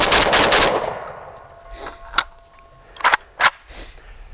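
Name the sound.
JTS AK12 (M12AK) gun firing rapid rounds at targets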